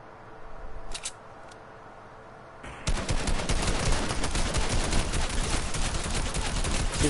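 Gunfire from an IO gun in Fortnite starts after a quiet stretch with a couple of faint clicks, then breaks into a loud, dense, rapid burst of shots that runs on without pause.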